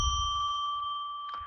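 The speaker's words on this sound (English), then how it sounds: "I'm going to ring a bell 3 times to declare and establish" A small bell is struck on a live psychic radio show to open sacred space, giving a clear, bright tone that rings on and slowly fades, with a faint second touch near the end.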